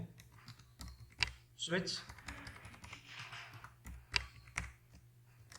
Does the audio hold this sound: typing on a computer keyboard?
yes